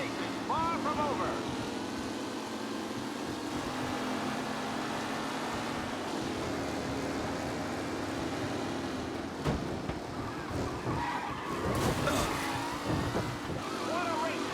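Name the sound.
race car engines during a race in video game Mafia: Definitive Edition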